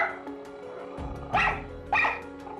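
A schnauzer barks twice in sharp, loud bursts about half a second apart, close by, after a brief low muffled thump and quiet room noise.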